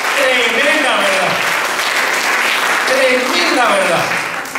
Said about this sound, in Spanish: Aplaudanle bien fuerte.